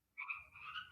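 A single frog croak, a brief buzzy call lasting under a second, sounds close and clear against a quiet background.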